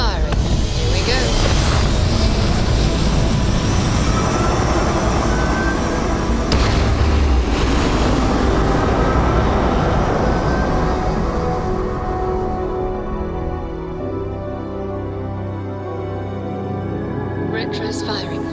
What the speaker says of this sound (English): Engines firing.